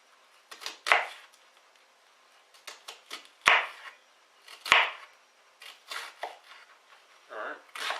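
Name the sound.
chopping vegetables for corn chowder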